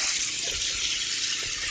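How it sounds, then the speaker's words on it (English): Water runs from a tap into a container as a loud, steady rushing stream, unbroken throughout and heard up close. "fill it up with some water"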